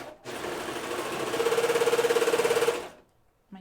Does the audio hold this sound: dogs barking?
no